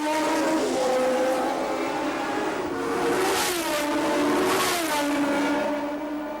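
Formula 1 race cars at the 1981 Argentine Grand Prix scream past in a continuous high-pitched engine roar, rising and falling as cars pass and shift, loud and steady throughout.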